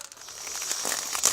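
Empty Pokémon card booster packs are crinkled by hand, a close, crisp run of plastic foil rustles and crackles building toward a sharper crunch at the end, with no voices.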